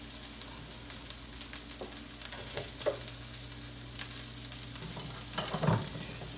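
Peppers, zucchini and yellow squash fry in a hot pan, a soft continuous sizzle broken by occasional stirring clicks and scrapes, fairly quiet throughout.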